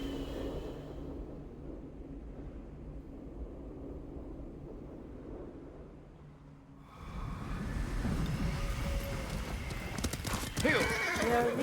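A horse's hooves clip-clop at a riding pace in a feudal Japanese setting, starting quiet and distant, then growing loud and close for the second half, with a whinny and some speech mixed in.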